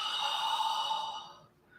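Long, breathy exhale during a qigong breathing exercise, a close airy rush that holds steady and then tapers off, with no talking over it.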